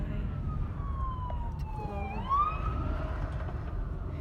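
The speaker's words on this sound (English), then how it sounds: "There's an ambulance going by." An ambulance siren wails as it passes by, its tone sweeping down, then up and down again, heard over steady traffic rumble with a few spoken words at the start.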